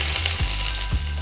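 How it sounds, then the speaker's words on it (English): Finely chopped ginger and garlic with a green chili frying in hot oil, a dense steady sizzle close up with two scraping stirs about half a second apart. "Allow the ginger garlic to fry for just a minute"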